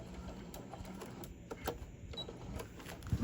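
A sewing machine back-stitches a fabric sleeve for an iPad or book cover, giving a faint run of rapid mechanical ticks and clicks close by.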